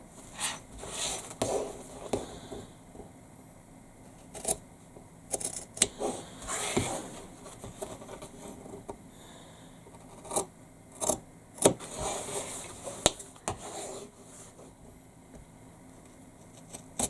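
Scissors snipping through several stacked layers of fabric squares for a backpack, close and deliberate, with irregular crisp cuts and rustling of cloth between them.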